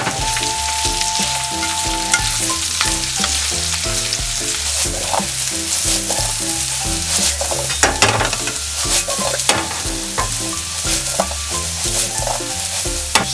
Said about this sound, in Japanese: バター入れて茹でたじゃがいもを炒めていきます